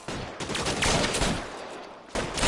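Rapid gunfire in a shootout in L.A. Noire, a loud, dense burst of overlapping shots that continues steadily, briefly drops, then resumes, with no talking over it.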